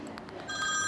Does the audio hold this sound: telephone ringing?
yes